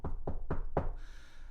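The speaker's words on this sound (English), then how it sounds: "So you knock on the door." Four firm knocks on a door land in a quick, even rhythm, each a close, solid thud, followed by a brief faint room tail.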